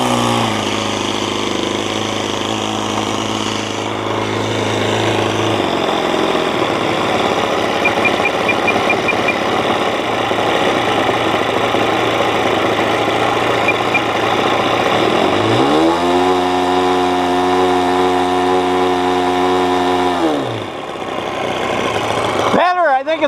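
A small glow or nitro engine on a 50-plus-year-old Falcon 56 three-channel RC model airplane drones loudly at a steady idle, then revs up sharply into a high whine, holds there for several seconds and drops back to idle.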